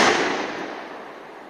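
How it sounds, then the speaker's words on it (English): A bear banger fired outdoors in British Columbia: one loud, sharp bang that begins the clip, followed by a long echo decaying across open country. "And that's a bear banger."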